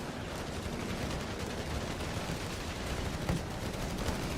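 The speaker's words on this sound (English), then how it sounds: "we have our mortar crew already doing some damage" Mortar crew fire in Company of Heroes 3 during a USA versus Germany battle, giving a dense, continuous rumble of distant explosions and gunfire with one sharper thump near the end.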